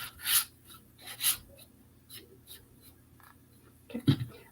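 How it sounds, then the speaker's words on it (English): Sandpaper rasping over the distressed edges of a painted craft piece, a few short scratchy strokes close by with pauses between, plus a brief knock near the end. "And I'm going to just sand that off right there."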